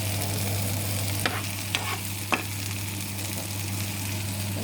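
Meatless vegan food with tofu cooks in a pan, a steady close sizzle under a constant low hum, with three short sharp clinks of a utensil scraping the pan, and no talking.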